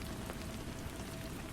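Rain on a rainy night: a steady, even hiss of rainfall patters on a surface with soft scattered droplets, continuous and uninterrupted throughout.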